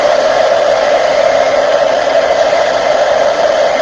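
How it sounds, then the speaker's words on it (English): A heat embossing tool blows hot air onto embossing powder on a handmade card, a loud, steady, close whooshing hum with a constant pitch that never lets up. "getting my heat tool"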